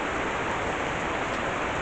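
Steady rain falls at an outdoor film set, a dense, even hiss of drops that holds unchanged and fills the whole stretch without pause, with no voices over it.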